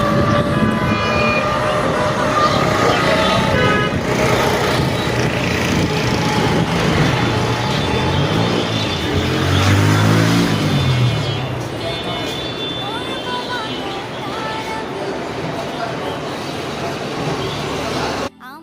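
Dense road traffic roars close by, a constant wash of engine rumble with occasional horn toots. A voice talks over the din throughout.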